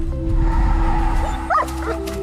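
A dog barks in a few short, sharp yips over a low steady hum and background score from the animated film Coco, moderately close and loud.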